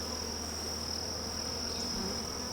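Honey bees buzz steadily at an open hive in a struggling bee yard, a dense, continuous insect drone close by with no talking.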